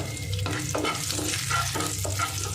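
Cumin seeds tossed into hot white oil, giving a steady close sizzle with dense crackling and spitting throughout, without any talk.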